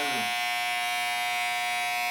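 Electric hair clippers buzzing during a home haircut: a continuous close, steady high-pitched motor hum that starts with a brief lower rumble and then holds evenly throughout.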